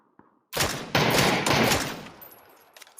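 Loud video game gunfire erupts in a dense, sustained burst of rapid shots lasting a couple of seconds, then tapers off into a fading tail with a few scattered pops near the end.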